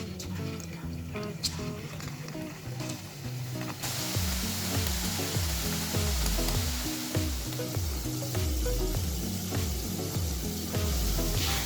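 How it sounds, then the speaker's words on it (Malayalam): Kaliyadakka rice balls are dropped into boiling sunflower oil and deep-fry with a steady, loud sizzle that grows fuller and denser partway through, with bubbling crackle and a low rhythmic pulse underneath. "എണ്ണ തിളച്ച് തുടങ്ങി. നമുക്കിതിലേക്ക് കളിയടയ്ക്ക ഇട്ട് കൊടുക്കാം."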